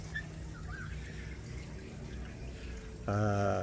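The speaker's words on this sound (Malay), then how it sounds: "Jadi air nutrisi tadi akan keluar kemari dan akan turun" Nutrient water pours and trickles through the channels of a DFT (deep flow technique) hydroponic system, a steady faint running flow that swells into a louder, fuller gush near the end.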